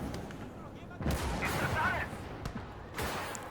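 Tank gun shots strike an armored vehicle in the Gates of Hell Second Battle of Kharkov battle, with the German 234 taking a side hit and being destroyed; several sharp, loud booming impacts land over a continuous rumbling battlefield din.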